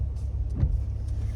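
A car rolls along on the drive home, its steady low road and engine rumble filling the cabin with a brief swell in the middle; no one talks.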